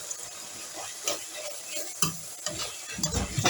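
Carrot samosa filling cooks in a pan with a steady close sizzle, punctuated by irregular scrapes and knocks of a spoon stirring against the pan.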